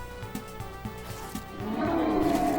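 Creature roar from the video game SKALD: Against the Black Priory, a low growling roar swelling over rhythmic game music and holding loud to the end, with no talking.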